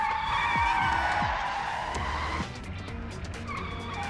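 Cars in an anime scene drive and skid: engine drone with rising and falling pitch sweeps, then a drawn-out tire squeal fading, followed by lighter clattering road noise.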